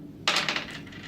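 Dice clattering onto a table during a tabletop roleplaying game, a sharp close burst of tumbling rattles that quickly settles and fades, with no voices.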